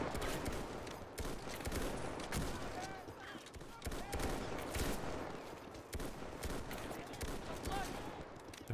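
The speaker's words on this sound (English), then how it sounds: "We got a Lewis gun holding it down over here, suppressing." Lewis gun machine-gun fire rattles through a World War One battle in Dublin in the Men of War game, dense crackling bursts and scattered shots that continue throughout, mixed with distant battle noise.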